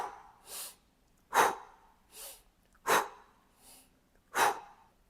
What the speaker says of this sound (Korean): 바벨로우에서 이 호흡법을 한번 보여드리도록 하겠습니다.